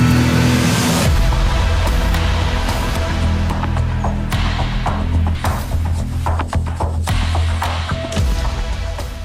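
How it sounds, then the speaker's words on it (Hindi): A Gypsy jeep drives off along a forest track in Kanha National Park, its engine rumbling steadily up close while the body knocks and thuds over bumps, with no talking over the noise. "खामोश जंगल के बीच हमारी जिप्सी आगे बढ़ चली"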